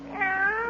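A cat named Aesop gives a single short, close meow in an old radio comedy scene, heard alone without talk.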